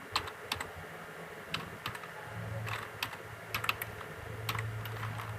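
Rapid, irregular clacking of keys on a computer keyboard, close and fairly quiet, with a low steady hum underneath and no talking.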